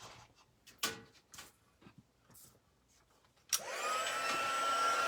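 After a few quiet clicks and taps, an embossing heat gun switches on at a craft table and settles into a loud, steady blowing whine that continues to the end.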